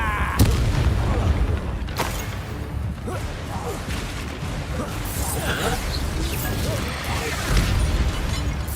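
Spell blasts and magical impacts crash through Hogwarts Legacy combat, with several sharp booms and whooshes repeating over a dense, loud battle din while a voice speaks over the action.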